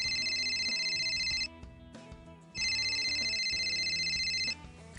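A mobile phone rings loudly with a bright repeating electronic ringtone in two long bursts separated by a brief pause, with no talking over it.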